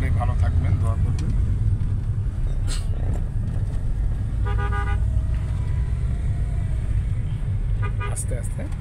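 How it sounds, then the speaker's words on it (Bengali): A car driven along a road in Bangladesh, with steady low engine and road rumble throughout, brief horn toots from surrounding traffic, and people talking over it. "এই যে আমাকে নিয়ে সে ড্রাইভ করছে"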